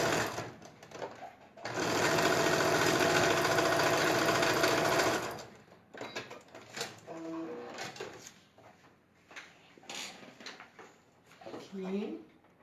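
A sewing machine on patchwork runs in a loud, steady burst for a few seconds, then stops, and a person talks over quieter handling sounds afterward.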